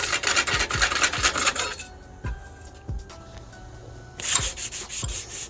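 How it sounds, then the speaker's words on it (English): Hand sanding on a truck's quarter fender collar, rhythmic back-and-forth rasping strokes, close and fairly loud, pausing briefly in the middle before resuming. "We'll give that a little sand to get some of that off so the new one goes on a little better."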